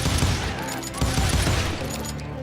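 Dense gunfire from a crowd of hired gunmen in the video game Call of Juarez: Gunslinger: overlapping shots form a loud, continuous fusillade with sharper cracks standing out at intervals.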